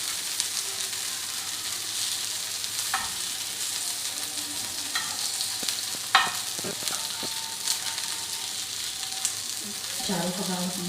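Kebabs for a dhaba burger frying in a little oil in a pan over moderate flame, a steady close sizzle with occasional clinks and scrapes of turning.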